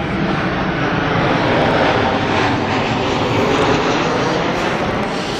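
An airplane coming in to land at a busy airport gives a loud, sustained engine roar that stays broad and even, heard close and alone throughout.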